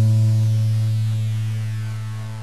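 Guitar's A string, the second lowest, plucked once in a beginner lesson, a single clear low note sustaining and slowly fading over a couple of seconds.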